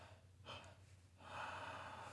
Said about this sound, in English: 3 exhales